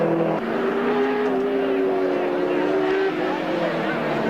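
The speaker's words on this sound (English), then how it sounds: "It's the Cadbury Schweppes car as we speak. Coming down off the top of the mountain." Engine of the Cadbury Schweppes race car at the 1980 Hardie Ferodo Bathurst 1000 coming down off the mountain, a sustained droning tone heard at a distance under a commentator's voice.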